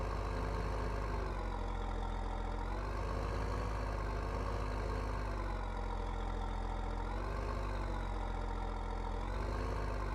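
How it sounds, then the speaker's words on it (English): A small tractor engine idling in Farming Simulator 2015, a steady low rumbling drone with a slight periodic swell, continuous and unchanging throughout with no voices. "real cool little tractor"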